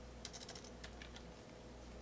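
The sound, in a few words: typing on a computer keyboard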